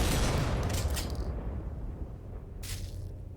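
Shotgun buckshot fire in the video game Paracom, a loud booming burst that fades into a noisy roar, with a second sharp report near the end.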